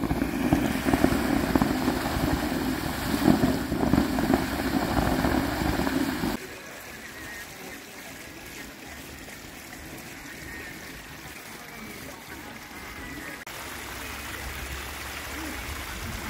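Hot spring water gushes forcefully at a spring in Chiang Mai, a loud, steady rushing roar that drops abruptly to a softer, distant flowing hiss partway through.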